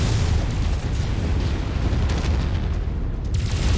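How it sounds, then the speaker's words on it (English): A big explosion in the mech combat game MechWarrior 5, a dense, roaring boom with rumbling low end that fills the whole stretch and then trails off into debris crackle. "That was a big explosion."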